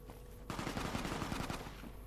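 Rapid bursts of gunfire rattle out in a Fallout: New Vegas-style Mojave game world, a dense machine-gun volley starting abruptly and running steadily for over a second and a half, fairly loud with no talk over it.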